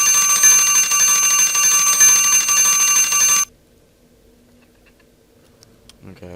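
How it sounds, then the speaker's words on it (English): A kitchen-style timer alarm rings loud and steady for about three and a half seconds, a bright continuous ringing that cuts off abruptly into near silence. "my timer just went off for 15 minutes"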